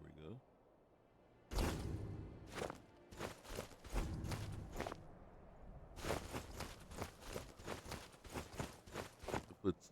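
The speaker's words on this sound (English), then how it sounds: "The footstep sounds are having a hard time keeping up with the footsteps." Footsteps of a character walking in the video game Skyrim, a series of soft, evenly spaced thuds that start after a short pause and continue to the end, close and clear.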